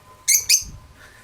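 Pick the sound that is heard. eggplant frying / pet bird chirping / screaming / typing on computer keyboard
pet bird chirping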